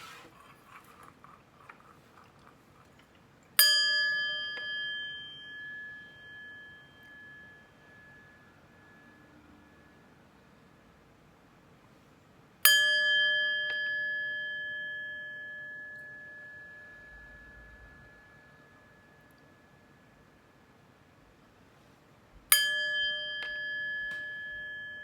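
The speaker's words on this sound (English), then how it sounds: "But first, let's chime." A chime rings three times at long, even intervals. Each bright metallic strike rings out clearly and decays slowly into near silence.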